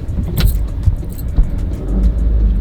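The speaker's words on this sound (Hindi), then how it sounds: "रुक गाड़ी आ रही है।" A car rumbles nearby on a road, a low steady engine drone with scattered rattles and jingling clicks, heard from inside a moving vehicle during a driving lesson.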